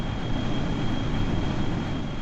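A Blackbird aircraft's single engine runs at maximum power in Kerbal Space Program, a steady loud drone with a constant whine and no change through the stretch, alone without talk.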